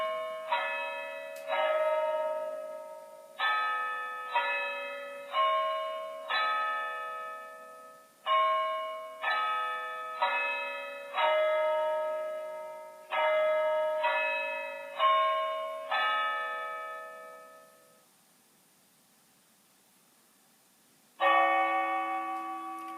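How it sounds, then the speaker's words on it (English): A Hornby Railmaster sound clock chimes a Westminster-style melody of clear, bell-like tones in even groups of four, each note decaying gently, then after a short pause strikes a single deeper bell for one o'clock. "That's it, 1 o'clock. What it'll do is it'll chime on the quarter, chime on the half, chime on the 3/4"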